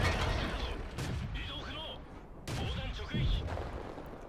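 Tank cannon shots from a Chi-Ri in World of Tanks, a few heavy booming blasts spaced apart over battle noise and engine rumble, with a voice talking over them.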